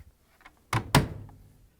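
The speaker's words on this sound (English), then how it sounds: "You can close the door now." A Samsung washing machine door swings shut during drain pump repair work, a close double thunk: a soft first contact followed by a louder latching slam that rings briefly and decays, alone in a quiet room.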